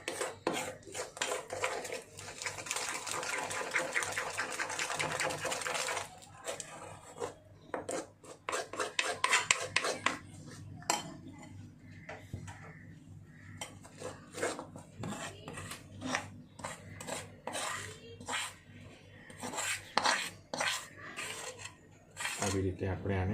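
Gulab katli mixture is scraped and spread flat across a marble slab, with rasping, scraping strokes and clinks of a utensil, steady at first and then in irregular bursts, while someone talks over the work.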